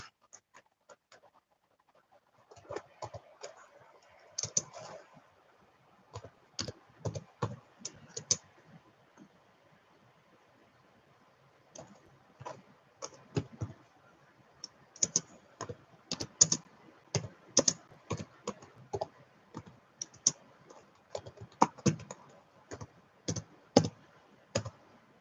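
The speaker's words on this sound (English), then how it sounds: "I'm going to type." Keys clatter on a computer keyboard at a trading desk in uneven bursts of close, crisp clicks, with short pauses between flurries and no talk.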